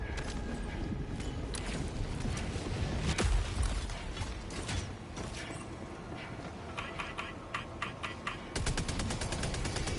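Sentry turret gunfire in Helldivers 2: rapid mechanical bursts and rattling shots, loud and close, mixed with whirring and clanking mechanisms, including a heavy thump near the middle and a fast clattering run near the end.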